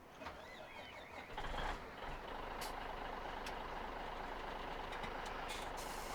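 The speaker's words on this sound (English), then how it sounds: "Hop into the truck here and take this to the bin." Truck in a farming video game backing up, a steady engine drone with faint intermittent reversing beeps and a brief louder rumble early on, no talk.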